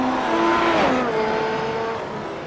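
Formula 1 race car engine from the iRacing sim at the 2016 Montreal Grand Prix, a loud sustained whine whose pitch climbs, then drops sharply as it shifts down, then holds steady, with no talk.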